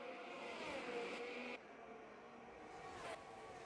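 A Formula race car in F1 22, in a GP2 league race in Portugal, whines past at a distance as a steady, quiet engine drone that dips in level partway through, with no talk.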